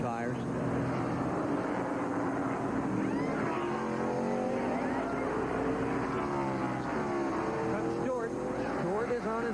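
NASCAR race cars at the 1999 Coca-Cola 600 at Charlotte peel onto pit road, their engines droning and rising in pitch throughout under continuous commentary.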